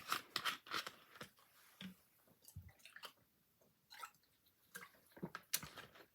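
Water is poured and sipped in a quiet room, with soft splashy trickles, small clicks and gulping sounds arriving in short irregular bursts, faint and close.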